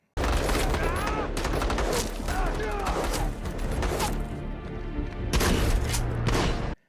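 Heavy gunfire from a battle in a forest in The Expanse TV series rattles almost nonstop for several seconds as a dense, loud fusillade, with booming hits and voices mixed in.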